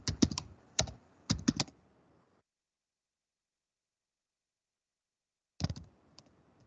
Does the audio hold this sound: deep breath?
no